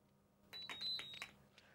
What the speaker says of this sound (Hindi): बजर पे एकदम फुर्ती से बटन दबाते हैं।